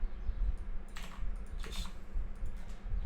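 Quick bursts of soft clicking from a computer keyboard being typed on, fairly faint and close, over a steady low background hum.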